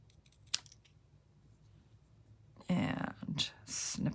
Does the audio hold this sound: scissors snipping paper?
yes